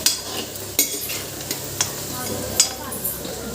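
Fish frying in a pan, a soft continuous sizzle with a few sharp clicks of stirring or utensil contact, steady and close.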